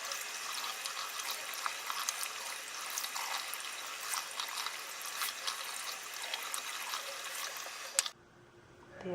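Tap water runs in a steady hissing stream, wetting a Beautyblender makeup sponge, constant and close for about eight seconds before cutting off abruptly into near silence.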